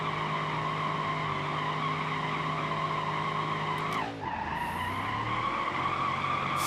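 A car in BeamNG.Drive doing a third gear burnout: a steady high engine whine and harmonic drone, then a sharp downward sweep with a brief tire squeal, after which the engine pitch climbs again.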